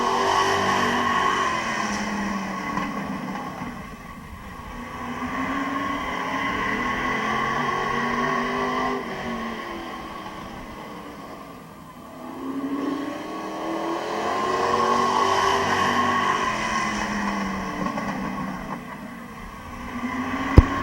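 Race cars circling an oval dirt speedway in a heat race at Midvale Speedway, engines swelling as they pass near and fading down the straights in a repeating rhythm, loud and continuous with no talk.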